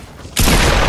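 Fortnite gunfire bursts in abruptly partway through, a loud, dense, sustained volley of shots that fills the rest of the short moment with no talk over it.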